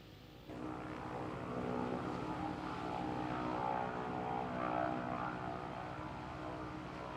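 A Vilga bush plane's propeller engine in a flight video game drones steadily and loudly throughout, rising sharply after a brief quieter start and holding a dense, even hum.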